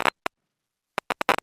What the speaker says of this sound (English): in which you get this theta rhythmic modulation, which if you listen, it sounds kind of like this